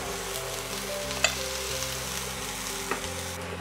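Chopped vegetables and green chilli pieces sizzle in hot oil for a quinoa pulao, a steady close frying hiss with a couple of small utensil clinks and no talking.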